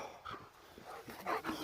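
A dog at a rural Russian home gives short yips and whimpering barks in uneven bursts, close by and moderately loud, with no one talking.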